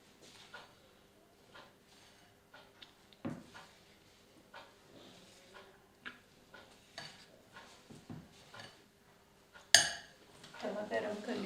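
Spices, red chili and other cutlet ingredients being stirred together in a bowl, with scattered spoon clinks and scrapes against the dish, a few sharper knocks, and a louder clattering burst near the end.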